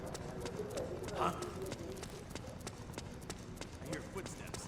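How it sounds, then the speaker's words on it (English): Rapid footsteps in Metal Gear Solid 4: Guns of the Patriots, a steady run of light clip-clop taps over a busy game soundscape, with voices talking alongside. "I hear footsteps."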